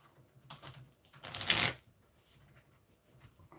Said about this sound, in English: ripple shuffling and the bending of the cards while doing it doesn't make you cringe inside